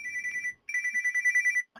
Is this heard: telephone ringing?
yes